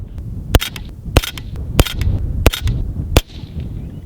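A Ruger Mini 14 rifle fires five rounds of Nosler ammunition, with sharp, loud cracks spaced roughly half a second apart and followed by outdoor background noise.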